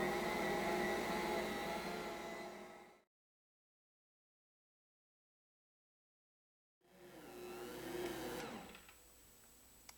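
Stand mixer kneading whole grain bread dough, a steady whirring motor drone that cuts out abruptly for a few seconds, then resumes and winds down, with no talking.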